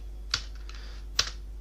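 Two separate keystrokes tap on a computer keyboard, quiet and close, spaced almost a second apart over a low steady hum.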